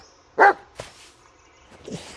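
A dog barks once, loud and close, in the video game Blair Witch while crossing a forest, followed by fainter scuffs and a low dog sound.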